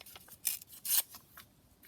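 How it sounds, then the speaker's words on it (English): Patterned scrapbook paper torn by hand in a few short, close, crisp rips, the two longest near the middle, with quiet pauses between them. "just going to tear this down here"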